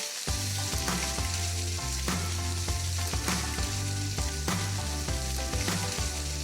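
Strips of bacon sizzle and crackle steadily in a hot frying pan while they crisp, a continuous bright spattering that runs under steady background music with a regular beat.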